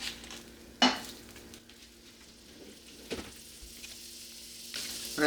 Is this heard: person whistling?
no